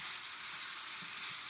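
Peppers fry on high heat in a pan, giving a steady, loud, close hiss of sizzling oil that runs unbroken throughout, with no voices.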